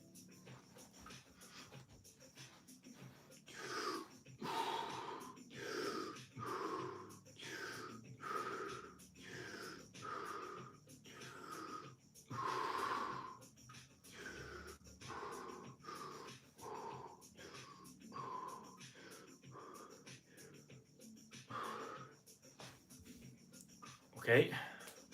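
Quick, deep breaths of the Wim Hof method taken on the side, a long run of rhythmic in-and-out breaths, each a short breathy rush, repeated steadily and heard up close at a low level, with a louder sharp sound at the end.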